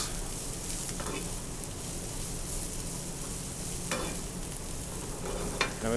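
Bacon sizzles steadily in a pan, with a few scraping stirs of a utensil breaking through the constant frying hiss, close and alone without talk.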